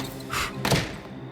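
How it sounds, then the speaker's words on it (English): A library door shuts with a single solid thunk, a short close slam with a dull thud and a brief tail, in an animated cartoon scene. "The door is shut and all the lights turn off in the library."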